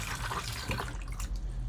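Flush fluid from the pump of a Burstner Ixeo 664 RV cassette toilet swirls around the bowl in a short, close watery rush with faint trickling.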